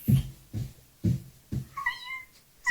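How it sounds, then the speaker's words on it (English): A kitty cat meows four times in a row, short close calls spaced about half a second apart, the last one rising into a higher, drawn-out whine. "Little kitty cat."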